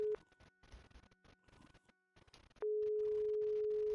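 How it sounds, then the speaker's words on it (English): A phone busy signal in the Broken Sword 5 game: a short tone, then quiet clicks and murmurs, followed by a steady, unbroken tone holding to the end. "It's a busy signal, dude."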